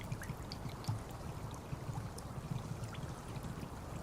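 A water bottle fills in the DayZ video game on the Sakhal map, a continuous rushing, gurgling pour that holds steady at a moderate level from start to finish.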